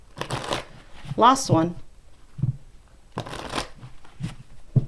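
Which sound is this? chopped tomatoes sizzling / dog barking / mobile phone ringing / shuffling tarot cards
shuffling tarot cards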